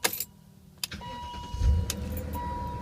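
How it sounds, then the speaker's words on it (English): A 2000 BMW M5 engine restarted while warm: a short crank, a catch and a rising rev, then a settled idle with a faint whine on top. "We'll do a second start here just for fun"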